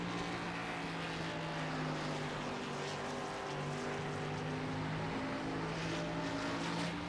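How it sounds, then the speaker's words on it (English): Xfinity Series race car engine at Indianapolis Raceway Park, a steady droning roar with the driver easing the throttle, held at a constant level throughout with no voices. "You can really listen to how much Plute has to baby the throttle"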